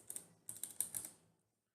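Several quick keystrokes on a computer keyboard, a short burst of clicks and then a pause and a second cluster, close and crisp, with no other sound.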